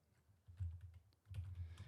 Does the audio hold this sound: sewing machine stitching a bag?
no